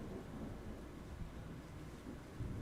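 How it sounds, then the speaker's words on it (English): Thunder rumbles low and continuous through a heavy downpour, steady rain hiss filling the background, fairly faint and distant with no voices. "Does the thunder frighten you?"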